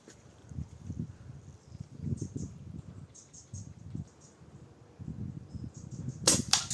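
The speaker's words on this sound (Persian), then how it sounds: "میخوایم بریم ببینیم از فاصله 40 متری چی کار میتونه بکنه تفنگ PCP" A PCP air rifle fires at a compote jar set as a target 40 metres away: one sharp, loud crack near the end, above a steady low rumble of outdoor background noise.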